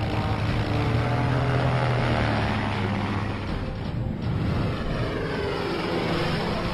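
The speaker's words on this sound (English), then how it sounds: "The DR-1 triplane," A Fokker DR-1 triplane flies with its engine droning and its propeller whirring loud and steady throughout, and the pitch shifts slightly as it passes. No one speaks.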